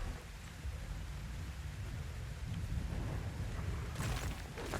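Rainstorm in the Ark Survival Ascended game on Ragnarok, a steady wash of heavy rain with a low rumbling undertone and a sharper crackle of thunder or splashing near the end, no voices.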